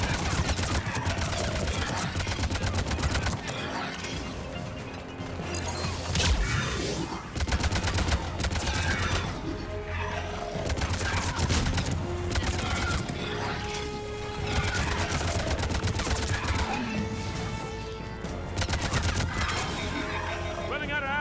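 Heavy gunfire in the video game Mass Effect 3, sentry turret fire mixed into a dense, loud battle with rapid bursts and rattling volleys that continue almost without pause, surging and dipping over a steady roar.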